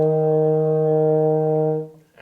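Euphonium sounding a long, steady E flat on the first valve, a rich brassy tone held close and alone for nearly two seconds before cutting off, part of a beginner warm-up exercise.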